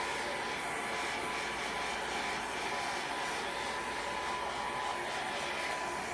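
Hair dryer blowing to dry paint on a Magnolia Design Co craft project, a steady, even whooshing hum held close and constant from start to end, with no talking.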